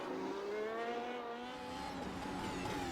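A Mercedes-AMG W12 Formula 1 car in an iRacing simulation at Suzuka gives a high, continuous engine whine with gear-like pitch sweeps as it comes out of a chicane onto a straight, loud and alone.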